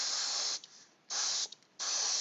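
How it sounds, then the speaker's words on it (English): Three hissing bursts of gloss varnish from a spray can onto a painted Warcaster Iron Star Alliance miniature, each lasting about half a second with short quiet gaps between them. "I'm just gonna spray a little gloss, just a little bit"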